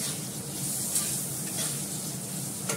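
Fish frying in a pan in a home kitchen, a steady loud sizzle and crackle with a few light stirring scrapes, close and continuous.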